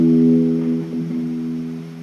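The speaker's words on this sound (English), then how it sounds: "It's the E string that sounds like this." Low E string plucked on a guitar, one sustained low note ringing steadily and slowly fading, close and clear with no talk.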